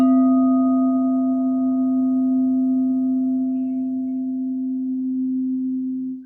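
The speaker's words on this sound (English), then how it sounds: "And that is the C note." A steady pure C-note tone for the sacral chakra, with faint overtones, holds at an even, moderate loudness for about six seconds before cutting off.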